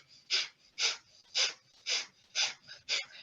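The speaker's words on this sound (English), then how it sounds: "We'll take one more round of the bellows breath." Forceful bellows breaths pushed through the nose in a breathing exercise, six sharp rhythmic huffs about half a second apart, close and distinct against quiet.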